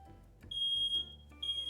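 Smoke alarm sounding indoors during a livestreamed Animal Crossing game show, giving two loud high-pitched electronic beeps, one long and one starting near the end, over a low background hum.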